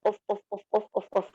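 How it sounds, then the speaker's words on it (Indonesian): A goose gives six sharp, evenly spaced honks, loud and close, with brief silences between the calls. "amati saja bagaimana bunyi keluar dari angsa itu"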